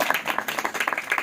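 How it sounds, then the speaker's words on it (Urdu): A church congregation claps loudly for God, a dense burst of rapid, overlapping hand claps filling the brief moment with no other sound on top. "آئیے زور سے تالیاں خدا کے لیے."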